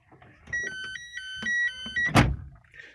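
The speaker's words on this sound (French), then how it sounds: "normalement si j'ouvre une porte" Door of a Renault Clio 1 opened with the ignition off, a short thunk followed by a steady repeating electronic warning chime, then a louder burst of noise near the end.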